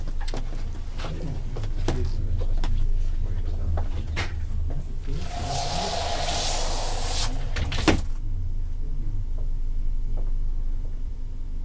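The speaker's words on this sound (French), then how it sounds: "Enfin, la porte s'entr'ouvrit." A door swings open with a broad creaking sweep lasting a couple of seconds, then a sharp knock or latch click as it stops, all over a steady low room hum.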